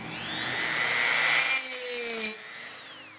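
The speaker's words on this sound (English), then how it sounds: "we're trimming down the hinges for the trim tab, elevator trim tab" Power tool cutting down aluminium hinge pieces for an aircraft elevator trim tab in a workshop, a close, steady whining grind that rises in pitch and stops abruptly, leaving a brief tonal ring-down.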